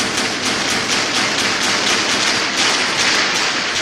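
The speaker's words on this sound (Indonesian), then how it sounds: "Dan simpanse ini pun terus menggedor-gedor kurungannya." A chimpanzee pounds on its cage in a steady flurry of rapid, loud thumps and taps, continuous and close, with no speech over it.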